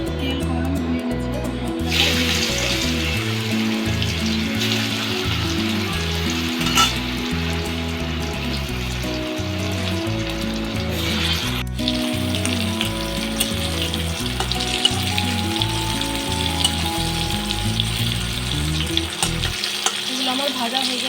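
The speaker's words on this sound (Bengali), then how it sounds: "ওলগুলো আমার সব ভেজে নিয়েছি" Elephant foot yam pieces frying in hot oil make a loud, continuous sizzle that lasts throughout, with background music underneath and a brief utensil clatter partway through.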